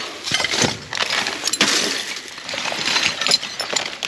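Broken glass items clink and shatter as someone rummages through a dumpster, a busy run of close, sharp chinks and crunching rattles that continues without pause.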